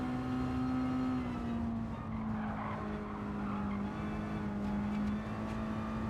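Mazda race cars in Gran Turismo 7 online lobby racing drone steadily throughout, a sustained engine tone with tire squeal and skidding hints, loud and continuous with no talk.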